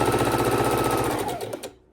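Heavy-duty sewing machine stitching fabric for a log cabin quilt block, a loud steady rapid mechanical whir that slows and stops near the end, with no voices.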